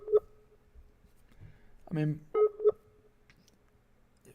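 Telephone keypad tones and a ringing call that goes unanswered, sparse beeps separated by quiet gaps, with a brief spoken remark over them.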